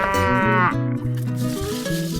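Cattle low loudly inside a cow shed, several overlapping moos with long harmonic calls, one after another across the stretch with no pause.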